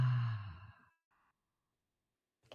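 A single slow, audible exhale during a breathing exercise at a wellness tea circle, close and breathy, fading out into silence with a faint sound at the very end.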